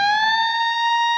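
Electric guitar note on the 15th fret bent up one and a half steps in a blues solo: a single loud, sustained bent tone with rich overtones holding steady, alone, then stopping abruptly.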